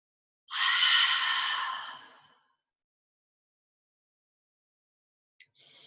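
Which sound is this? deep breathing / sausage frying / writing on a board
deep breathing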